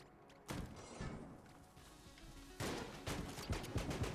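Heavy blasts from the mass shotgun in the video game Enter the Gungeon, two loud booming bursts with lingering crackle followed by a quick run of smaller impacts, no talk over them.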